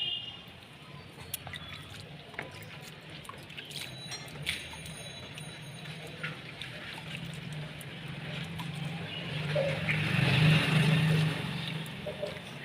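Water is poured onto a bitter gourd plant at a home garden, giving a soft, continuous splashing and trickling with scattered drips that swell louder toward the end.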